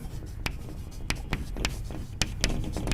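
Writing on a board during an optics lesson: a string of crisp, close tapping and scratching strokes in an irregular rhythm, standing alone over a soft room hiss.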